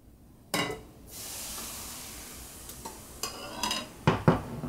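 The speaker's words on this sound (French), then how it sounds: "Alors celle-ci, elle est cuite, je vais pouvoir donc la débarrasser sur une assiette" Cooked crêpe lifted from a pan onto a plate, with a few light clinks and scrapes of utensil on pan and plate over a soft background sizzle, fairly quiet and close.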